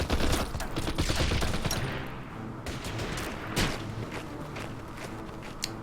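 Bursts of gunfire hit infantry in the Order of Battle wargame's desert sandstorm operation, a rapid cluster of sharp shots and thuds early on, then scattered single reports fading and spacing out over the next few seconds.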